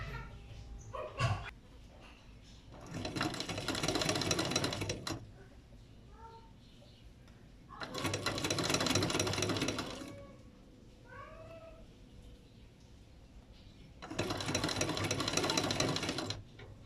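A sewing machine stitches along a folded side of fabric in three loud bursts of rapid whirring, separated by quieter pauses with faint voices and small background sounds.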